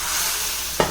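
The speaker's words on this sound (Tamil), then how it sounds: "இப்போ பாருங்கள் ஃப்ரெண்ட்ஸ், கடுகு, ஜீரகம், வரமிளகாய் தாளிச்சிருக்கேன்." Mustard seeds, cumin and dried red chillies fry in hot oil with a constant hiss and crackle, one brief stir or clatter near the end.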